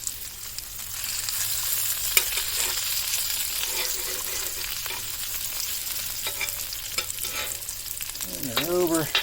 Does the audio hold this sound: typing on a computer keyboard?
no